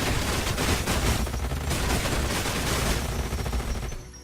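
Rapid gunfire in Age of Wonders Planetfall, a dense, sustained barrage of overlapping shots that fills the whole moment and then tapers off.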